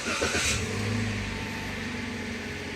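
A parked Toyota Rush with the handbrake on starts up: a brief burst of engine noise at the start that settles into a steady low idle hum.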